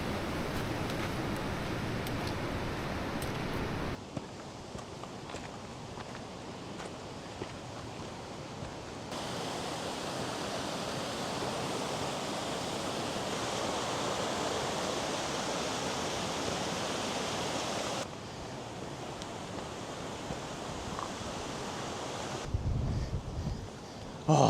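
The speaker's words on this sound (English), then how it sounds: "a path that goes parallel up with a little stream or a river or gill or beck" A small mountain stream beside a hiking path in the Lake District rushes with a constant broadband hiss, steady and fairly close, with shifts in level as the listener moves along, and no voices.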